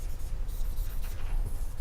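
A pen scratches and taps across a sheet of paper in quick, uneven strokes, close and fairly loud, with no talking.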